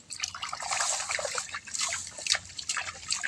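A freshly caught animal from a burrow is rinsed in water in a plastic container, producing steady close trickling, dripping and splashing with no talk over it.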